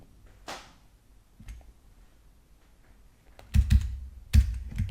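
Typing on a computer keyboard for a web search, a few scattered soft taps followed by two quick bursts of keystrokes, close and fairly quiet in a still room.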